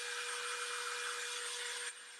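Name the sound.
dryer blowing air to dry a craft project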